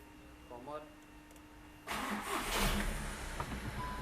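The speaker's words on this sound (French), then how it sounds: "on va faire démarrer le véhicule" A car engine cranks and catches with a sudden loud roar, then settles into a rough running rumble; the vehicle sits in neutral, and brief faint speech comes before the start.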